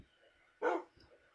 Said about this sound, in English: let's go see what's going on with these dogs